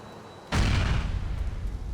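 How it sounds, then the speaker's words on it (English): A bomb detonates in GTA IV with a sudden loud booming blast, followed by a sustained roaring, crackling rumble that lingers at high level. "I'm gonna trigger this bomb."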